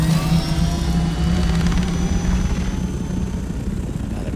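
A helicopter in the video game Dune: Awakening drones steadily and loudly with a dense rotor rumble and a whining engine tone that stays constant throughout.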